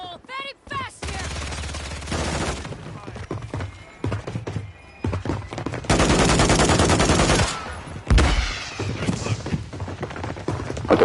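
Automatic and single gunfire bursts in a Season 2 Resurgence battle royale match, loud, dense and continuous across the stretch, with brief pauses, under someone talking loudly in excitement.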